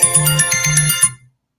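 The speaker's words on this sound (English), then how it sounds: "I forgot to turn this phone off, so it's been going off" A mobile phone ringtone plays nearby and loud, repeating a bright melodic pattern over a pulsing low tone for about a second, then cuts off abruptly into silence.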